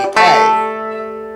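One bright plucked note on an Irish tenor banjo, played on the A or D string, rings out with a sharp attack and a long, steadily fading sustain; no voices.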